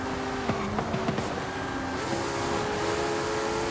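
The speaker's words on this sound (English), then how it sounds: "On a stock Ferrari, the backfires." Stock Ferrari in Forza Horizon 5 racing, its engine droning steadily with a few short popping backfires from the exhaust early on, loud and continuous.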